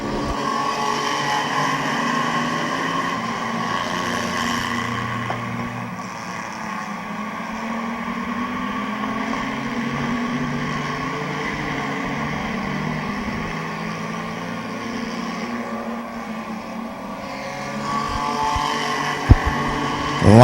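Race cars roaring around the Midvale Speedway oval, a steady loud engine drone with rising and falling passes, some nearer revving surges toward the end, no speech over it.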